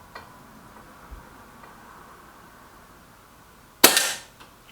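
A Reximex Regime air rifle fires a single sharp shot, a loud crack with a short decaying tail standing out near the end against quiet room background.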